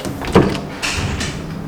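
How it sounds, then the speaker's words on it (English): A sliding bathroom door in a Mont Kiara condominium unit rolls along its track with a short bump near the start, then a longer sliding rumble, close and fairly loud. "in order to save space, they use a sliding door"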